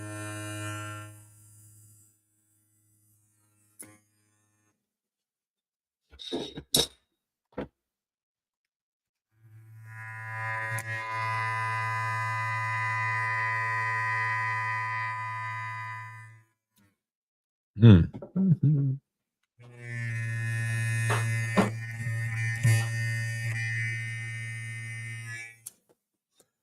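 Electric hair clippers running in separate bursts, a steady, loud buzzing hum with strong harmonics switched on and off three times over about half a minute, with clicks and a short murmured voice between runs.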